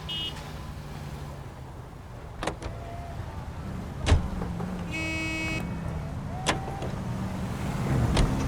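A car is driven in the L.A. Noire video game, with a steady engine hum running throughout. Scattered clicks, a short buzzing tone and a few brief knocks rise above it, and the engine grows a little louder near the end.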